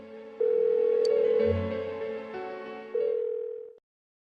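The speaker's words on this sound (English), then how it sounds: "Why won't she pick up the phone?" In Persona 4 Golden, a phone rings on and on with no answer. Its sustained electronic tones shift pitch in steady segments, fairly loud and close, with no voices before it cuts off.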